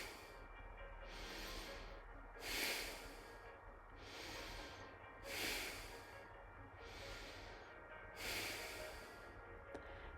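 Slow, rhythmic breathing during a yoga flow: soft breaths recur at regular intervals of roughly one every one and a half seconds, some deeper exhales standing out, quiet and close over a low background hum.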